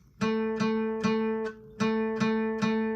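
A single guitar note, third string at the second fret, plucked six times in a steady rhythm, ringing clearly with each pluck and no other sounds.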